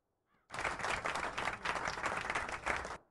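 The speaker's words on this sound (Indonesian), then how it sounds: "Kita kasih tepuk tangan dulu" An audience bursts into applause, a dense burst of clapping lasting about two and a half seconds before it stops abruptly.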